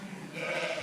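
A lamb bleats once, close and loud, a brief wavering cry during ear tagging on a sheep farm.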